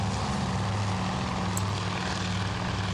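A Zero fighter plane cruises in the Task Force Admiral game, its propeller engine a steady, continuous drone with a low hum that holds evenly throughout.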